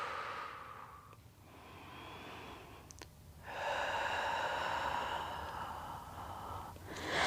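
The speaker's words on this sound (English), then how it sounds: "Deep breath out and roll." During a pilates mat workout, a long, deep exhale streams out close by and swells into a strong, breathy rush toward the end, with softer breaths before it.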